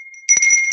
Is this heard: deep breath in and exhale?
no